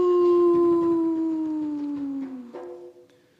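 A human voice imitates a wolf howl, one long sustained tone that slowly slides downward and fades out, close and clear.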